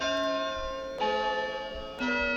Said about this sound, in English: I got the bells back because we fixed the audio